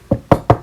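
Knuckles rap on a door in a re-enactment: four sharp, close knocks, a single one followed by three in a quick, even rhythm, with no talking.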